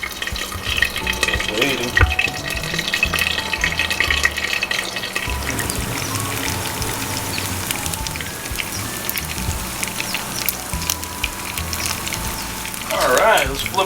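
Magnolia frozen chicken lumpia fry in grease in a covered pan, giving a steady, dense sizzle and crackle like rain on a surface that runs throughout, with a brief spoken remark over it.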